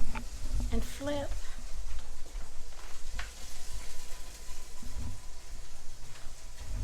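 Chicken wings fry in a pan and crackle softly as they are flipped with large tongs, a quiet, steady sizzle with occasional clatter and someone talking over it.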